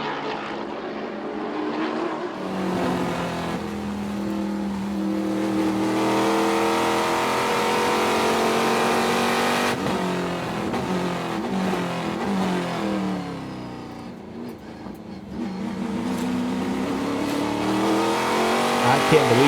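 Trans Am race cars at Sonoma Raceway roar downhill toward turn 11, loud sustained engine howl shifting pitch as the cars pass, with a commentator talking over the noise.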